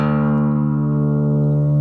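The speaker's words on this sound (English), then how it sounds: "So take that low E string, tune it down to the nearest D note" A single low E string on an acoustic guitar, retuned down to drop D, rings as one sustained, steady note that decays slowly, close and alone.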